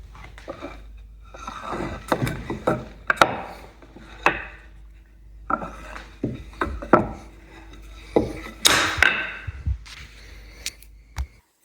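Glued wooden end-grain cutting board strips flipped end over end and set down, a series of loud knocks, scrapes and rubs of wood on wood in an irregular sequence.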